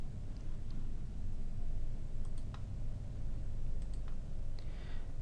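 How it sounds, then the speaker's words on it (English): Computer mouse clicks while rectangles are drawn in CAD: a handful of faint, light clicks sit scattered over a steady background hiss, some in quick pairs. "I will click my rectangle button and draw two rectangles from the corners."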